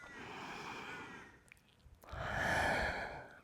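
Slow, deep breaths during a gentle yoga session: a long audible exhale, a brief pause, then another full, airy breath, close and clear.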